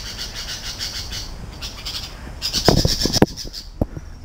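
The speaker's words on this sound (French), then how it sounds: "Un bébé perroquet." A baby parrot in Panama squawks in a run of harsh, rapid calls that swell in the middle and end in a few sharp bursts, close and loud over a steady background hiss.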